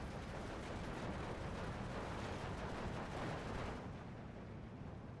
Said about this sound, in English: P2 coming in for another bombing strike on this Panzergren.